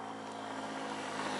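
A camera drone flies outdoors in Honduras, giving off a steady, buzzing propeller drone that holds at an even level throughout, moderately loud and close.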